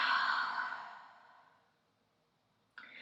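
A deep exhale out through the mouth during a yoga breathing practice, one long breathy sigh that starts full and fades to silence over about two seconds, followed by a brief new sound at the end.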